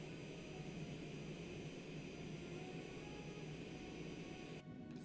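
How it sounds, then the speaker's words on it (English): A Cessna Longitude jet engine spools up in Microsoft Flight Simulator, a steady, dense, even whine and roar that holds level throughout before cutting off abruptly near the end. "As the second engine is spooling up"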